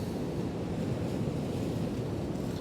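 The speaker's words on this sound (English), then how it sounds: "Just trying to catch some of these waves" Sea waves at the Happisburgh cliffs crash against a wall and splash high into the air, making a continuous loud rushing roar with heavy wind buffeting the microphone throughout.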